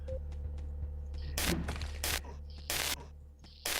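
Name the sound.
revolver gunshots in the video game Teleglitch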